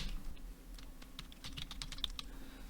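A password goes into a computer keyboard as a quick burst of soft, close key clicks, irregular taps clustering toward the end over a quiet room.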